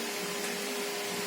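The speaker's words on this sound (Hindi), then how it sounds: "बंद करो पंखा" An electric fan runs in a classroom, giving a steady, moderately loud whirring hum with an even airy hiss and no talk.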